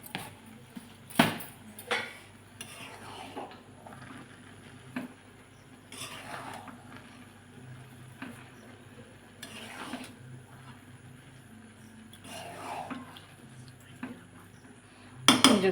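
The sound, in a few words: stirring sugar into pilaf in a pot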